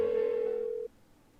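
An unanswered phone call in the Persona 4 Golden video game: a steady electronic ringback or dial tone holds for under a second, then cuts off abruptly, leaving a low hum.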